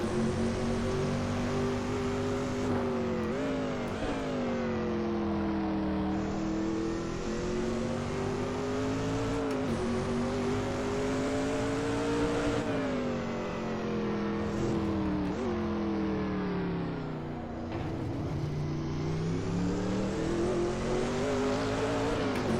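Group C race car engines roaring in the sim racing game RaceRoom, a loud sustained multi-car drone whose pitch rises and falls through gear changes, with no talk over it.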